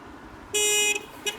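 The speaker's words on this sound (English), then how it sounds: "And then Sabrina honks at Abby because she's upset that she couldn't see her pulling out either." A car horn honks once in a firm half-second blast, followed moments later by a brief, lighter second toot over quiet road background.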